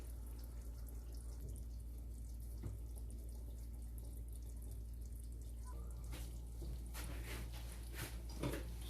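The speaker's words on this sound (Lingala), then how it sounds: "sokola basani na biso" Tap water runs steadily into a kitchen sink during dishwashing, with a constant rushing stream and scattered clinks and splashes toward the end.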